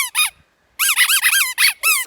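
A squeaky dog toy from a B&M haul gives quick, shrill, high-pitched squeaks, a couple at first, then a rapid run of about seven after a short pause, loud and close with no talking.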